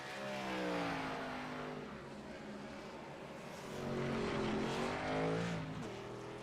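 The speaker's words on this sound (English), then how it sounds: "You had a bunch of cars come down the track." Race cars in a sheepdog racing event at Old Atlanta roar down the track, engines rising and falling in pitch as a pack passes at moderate distance, continuous and loud.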